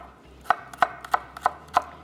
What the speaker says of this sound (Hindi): ले लीजिए बड़े साइज़ की प्याज और इसको कर लेंगे स्लाइस।